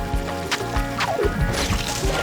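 Blob character from the video game de Blob plunging into water, a short burst of splashing and sloshing over a steady game music bed, with thumpy impacts spread across the moment.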